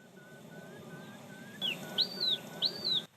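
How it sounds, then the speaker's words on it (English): Birdsong on the reedy shores of Lake Neusiedl, Austria: soft repeated whistled notes, then louder, clearer chirping phrases from a nearby bird in a quiet outdoor setting. "the device is recording the soundscape and all the different sounds from birds, amphibians"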